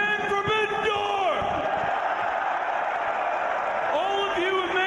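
A huge live pro wrestling crowd at the O2 arena roars and cheers continuously, with loud whoops and chants rising at the start and again near the end.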